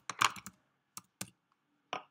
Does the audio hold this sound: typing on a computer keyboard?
yes